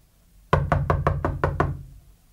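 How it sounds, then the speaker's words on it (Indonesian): Six sharp knocks on a door in quick, even succession, close and loud, followed by a short fade into quiet; no voices. "Yes, it's someone knocking at the door."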